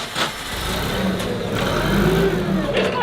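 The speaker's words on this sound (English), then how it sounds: "watch me skid this forklift" A forklift engine revs steadily as the machine skids, a sustained mid-pitched roar with tire scuffing laid over it and no talking.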